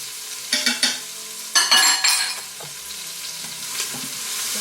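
Celery, onions and garlic sizzle steadily in a pan while being stirred, with several scraping stir strokes and clinks over the continuous frying hiss and no voices.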